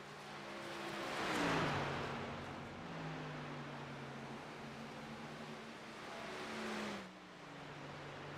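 Race truck in a sim racing game engine note, swelling as it passes then dropping in pitch as the truck slows onto pit road at Chicagoland, a steady moderate drone with a second swell late.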